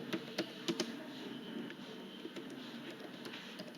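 Keys clatter on a computer keyboard in short bursts of crisp clicks early on, then fade to softer, sparse taps over a steady room hiss, with no one speaking.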